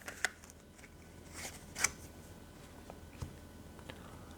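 Soft, quiet shuffling and drawing of tarot soul message cards, with a few brief papery flicks and slides spaced apart against a hushed room background, no talking.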